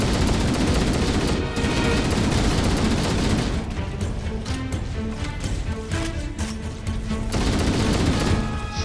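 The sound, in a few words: gunfire in Halo: Combat Evolved video game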